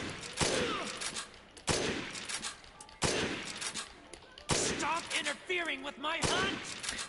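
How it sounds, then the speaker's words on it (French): Sniper rifle shots in the video game Dead Rising Deluxe Remaster, about five sharp loud reports spaced a second or so apart, each with a ringing tail, under someone talking. "on va le sniper. Avec l'arme de son père."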